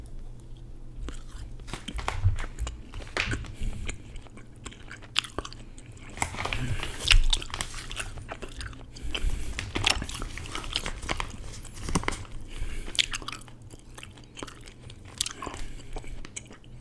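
Big League Chew bubble gum is chewed close up in an irregular, ongoing rhythm of wet smacks and soft crunchy bites.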